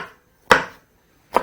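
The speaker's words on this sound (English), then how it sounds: "And all you need to do now is proceed to chop that" A knife chops vegetables on a cutting board, with two separate sharp knocks about a second apart, close and crisp with no talking.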